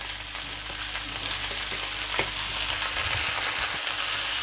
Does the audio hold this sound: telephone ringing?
no